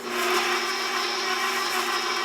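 An electric mixer creams room-temperature butter, cut into squares, for old-fashioned sorghum syrup cookies; a steady, loud motor whir runs throughout without pause.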